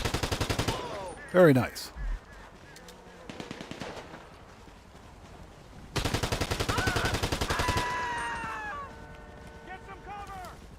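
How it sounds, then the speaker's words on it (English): An explosive shotgun fires in GTA 5 Online, with rapid bursts of gunfire and booming blasts in several clusters, mixed with other weapon fire and a brief spoken comment. "I forgot we got that explosive shotgun"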